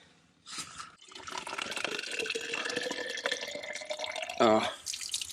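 Water rushes from a tap into a cyclist's bottle during a gravel race in mid South Wales. A steady close stream with a faintly rising tone is preceded by a short splash and ends with a brief louder gurgle.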